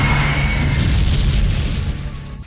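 Booming missile blasts in a sci-fi space battle, Shadow vessels firing missiles at the White Star 2, a dense continuous roar of loud low rumbling detonations that fades slightly toward the end.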